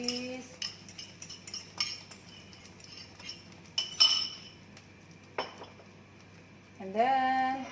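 An egg is cracked and dropped into a hot pan while making a mozzarella omelette: a scatter of sharp clinks and taps against cookware, with a brief burst in the middle and a voice speaking near the end.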